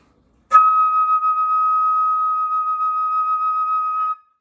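A single high E-flat flute note sounds clear and steady for about three and a half seconds, pure and sustained, then stops.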